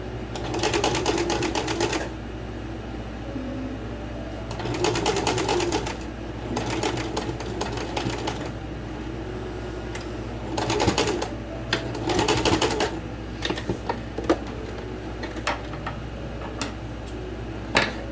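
A sewing machine stitches a band collar onto a shirt in several short bursts of rapid mechanical chatter separated by pauses, close and steady, with a low hum underneath.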